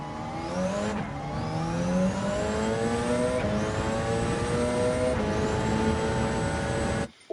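A Gr.1 hybrid Le Mans race car in Gran Turismo 7 at Road Atlanta: its engine screams steadily, pitch climbing through several upshifts, loud and continuous until a sudden drop at the end.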